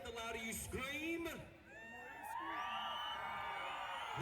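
Thousands of rodeo fans in an arena erupt in loud, sustained cheering, whoops and high screams, dipping briefly before swelling again into a continuous roar of voices.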